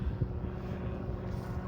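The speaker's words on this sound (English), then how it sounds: "actually there's a helicopter up there" A helicopter flies overhead and gives a steady, low, distant rotor drone with no talking.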